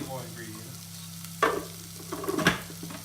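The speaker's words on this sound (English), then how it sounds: "We're going to mix these together before we add any more ingredients." Ingredients are mixed together in a bowl, with a few scraping, clattering stirring strokes, one sharp knock and then a brief cluster near the end, over a low steady hum.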